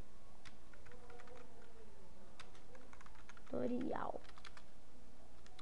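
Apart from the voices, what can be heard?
typing on a computer keyboard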